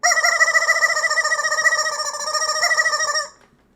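A rubber chicken toy squeezed in one long, continuous, loud squawking squeak with a rapid warbling flutter, lasting about three seconds before cutting off.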